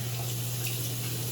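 Cold water runs from a bathroom sink faucet in a steady, even rushing hiss with a low hum underneath, continuous and close by.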